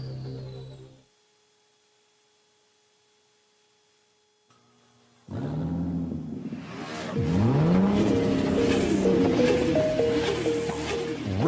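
Car engines rev and accelerate in a fuel station advert, starting after a near-silent pause with a burst of roaring, rising engine tones and swooshing passes layered with a musical backing, loud and close.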